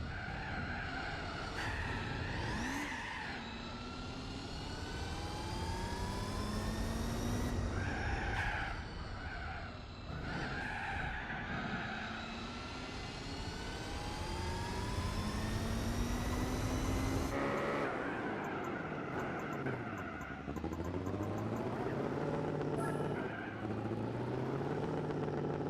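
Race car engine rumbling and revving in Gran Turismo 4 on soft tires, with rising and falling gear sweeps and tire skidding squeals throughout, loud and continuous.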